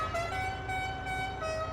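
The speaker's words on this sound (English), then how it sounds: "Fantastic horn, that." A truck horn in the farming video game Farming Simulator 22 blares in sustained tones, loud and close, with slight dips and swells over nearly two seconds.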